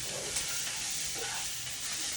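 Onions and mushrooms sizzle in a pan, a steady, close hiss of frying that carries on evenly without any talk.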